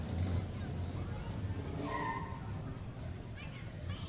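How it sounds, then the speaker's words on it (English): Classic Porsche rolling past at a small-town car cruise, a low engine rumble and tire noise at moderate distance, with crowd chatter around it. "Oh, we got a classic Porsche here."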